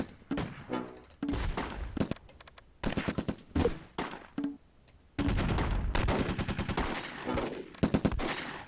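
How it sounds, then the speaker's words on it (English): Mortar and gunfire in the Close Combat war game, bursts of sharp rapid shots and thumps in clusters with brief gaps, then a long dense stretch of continuous firing, loud and close. "To get your mortars to stop shooting at stuff."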